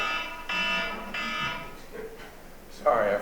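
A timer alarm goes off during a town finance board public hearing, bursts of harsh buzzing beeps in a large room, ending with a louder burst while people talk.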